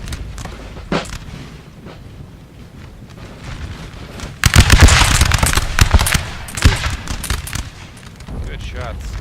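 Musket volleys and cannon fire in a Napoleon: Total War battle, England and Sweden against France, with cavalry about: a quieter stretch of scattered distant shots, then a dense, loud burst of repeated gunfire and booms, with a voice speaking over it.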